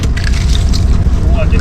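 A small boat being rowed out on the water while fishing, giving a steady, close wash of water and wind-like noise with no clear stroke rhythm, with faint voices in the background.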